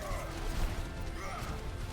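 An Overwatch shield shatters with a crashing break on King's Row during a professional league match, short and loud amid dense, continuous game noise.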